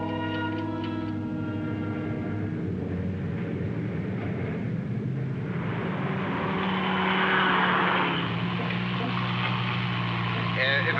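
A car engine drones steadily as it is driven fast, a continuous low hum with rising road noise toward the end, under someone talking.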